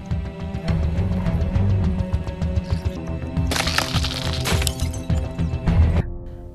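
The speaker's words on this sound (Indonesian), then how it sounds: "ia juga berhasil membuat sebuah cairan khusus yang dimana mampu membuat sebuah kaca yang sangat tebal bisa langsung pecah dalam hitungan detik" Thick glass cracks and shatters after a special liquid is applied, sharp cracking snaps followed by a loud bright burst of breaking glass, set against a film score.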